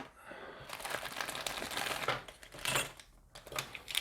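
A plastic bag of model kit parts for a Terminator figure is pulled open, loud close crinkling and crumpling in irregular bursts with short pauses, a brief quiet spot near the end before more rustling.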